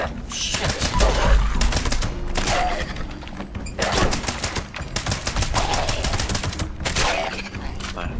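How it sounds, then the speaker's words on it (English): Rapid bursts of gunfire in Fallout 76, repeated volleys of automatic shots crackling over a continuous in-game background, loud and close, with no one talking. "I hear you shooting, or someone shooting"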